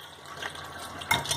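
Water draining through a strainer as soaked bitter gourd peels are strained, a soft running trickle that swells into a brief louder splash near the end, close by.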